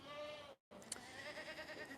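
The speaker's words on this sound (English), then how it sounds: "of all of the new goats that we brought in, and this is some of our new herd here" Goats from a newly arrived farm herd bleating in a steady, wavering chorus, broken by a brief silent cut and a short clatter, with a faint voice underneath.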